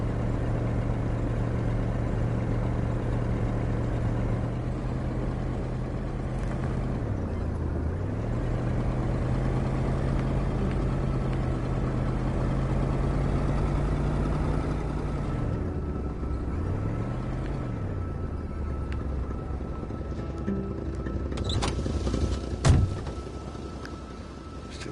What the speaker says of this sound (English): Still leaves the engine on.